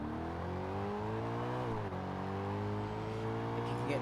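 A race car in Forza Motorsport accelerates in first gear, its engine note climbing steadily, dipping briefly at a shift point and rising again, loud and continuous under a faint voice.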